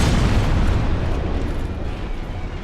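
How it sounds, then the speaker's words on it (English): Explosion in Dark Souls Remastered: a loud, broad roaring burst that fills the whole span and fades slowly over almost three seconds, heard alone. "Bait him back into the explosion."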